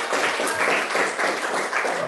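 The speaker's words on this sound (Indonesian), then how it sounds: "beri aplaus kepada Aldi Mulyana" An audience applauds a student named in a school class session, a dense steady patter of many hands clapping close by and filling the whole stretch without pause.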